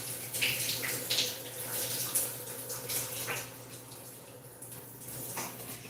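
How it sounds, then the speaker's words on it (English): Shower water running in a hotel bathroom, a steady hiss and splash at low level with no voices. "this was a quick shower."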